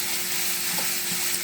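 Sausage fries in a pan with a dense, steady sizzle and crackle filling the moment, close and even, with a faint scrape of stirring and no talk.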